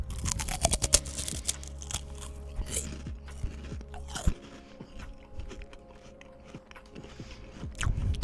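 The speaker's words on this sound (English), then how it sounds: "Got good crunch." A crunchy hot and tangy snack is bitten into and chewed up close: a sharp initial crunch followed by repeated crackling chews, loud at first and then quieter, with a brief exhale and mouth sounds between.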